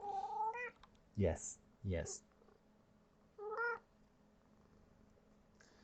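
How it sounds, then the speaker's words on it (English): A house cat lets out a few short meows spaced apart, fairly close, over a low steady hum, with a brief word spoken between them. "this cat is the MVP."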